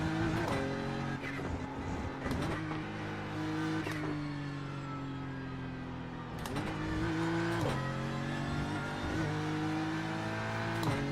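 A GT3 race car in iRacing revs hard through sustained engine tones, with sharp gear-change breaks and a rapid downshift to second that sends the revs jumping, loud and close throughout with no talking.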